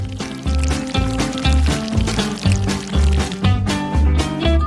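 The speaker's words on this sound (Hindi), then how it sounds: "अब इसे नारियल के दूध में डालेंगे" Crushed kiwi juice being poured into coconut milk, with a continuous liquid pour heard under loud, steady rhythmic background music.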